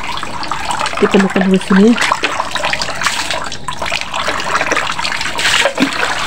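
Tap water runs steadily into a basin in a simple home kitchen, a continuous broadband rush with small splashes, heard close and fairly loud, while someone speaks over it.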